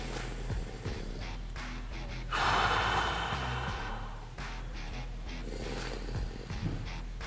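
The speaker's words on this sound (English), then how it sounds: "I'm going to exhale through my mouth and then inhale into my upper back to my nose" During an upper-back stretch, a person gives one long, close, breathy exhale through the mouth and then breathes in through the nose, with quieter breaths and faint rustling around it.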